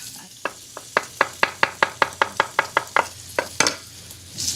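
Chanterelle, Roma and shiitake mushrooms being chopped with a knife on a board, about fifteen crisp, evenly spaced cuts in a steady rhythm, close and clear with no talk.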